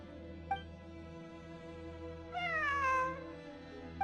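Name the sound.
cat meowing in the video game Genshin Impact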